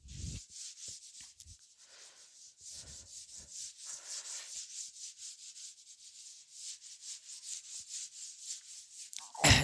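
Dry rubbing on a board, steady scraping strokes wiping away writing, continuous and close, ending with a short louder knock.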